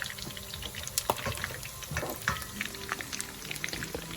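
Honey hot sauce sizzling in a pan while being stirred, a close, continuous crackling fizz with scattered pops and scraping stir noises.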